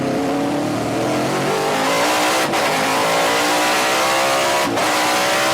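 A race car engine revving through a lap, loud and continuous with rising gear pulls and two brief shift dips, no talk over it.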